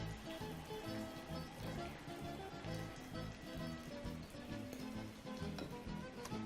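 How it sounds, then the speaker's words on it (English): Potato fritters dropped into hot oil sizzle and crackle steadily and densely throughout, loud and close, with faint kitchen noise underneath. "all we're going to do to that is just drop those into the hot oil like that"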